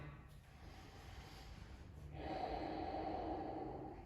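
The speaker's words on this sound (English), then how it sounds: "exhale" A long, steady breathy exhale through the nose during an ashtanga yoga led class starts about halfway through and holds to the end, after a quieter stretch of soft room tone. It is close and fairly loud, with no talking.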